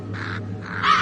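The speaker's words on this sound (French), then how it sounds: "Les corbeaux sont vraiment partout." Several harsh caws from crows, three rasping calls close by over a low background hum.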